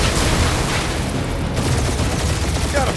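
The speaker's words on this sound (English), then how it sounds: "We're taking fire!" Rapid gunfire and booming impacts from a firefight in the video game Guardians of the Galaxy, loud and continuous throughout, layered with game effects and rumbling noise.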